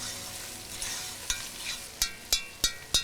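Sausages sizzle and fry in a hot pan, a steady close crackle joined by several sharp clicks and scrapes as they are stirred and turned, with no talking.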